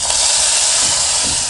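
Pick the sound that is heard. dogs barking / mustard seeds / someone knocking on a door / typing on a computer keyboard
mustard seeds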